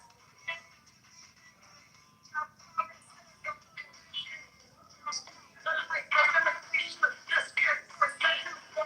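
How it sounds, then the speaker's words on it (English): Short electronic notification chimes and pings play repeatedly during a live stream, scattered at first and then crowding together in a dense, louder burst toward the end, with talking mixed in. "These notifications are bugging."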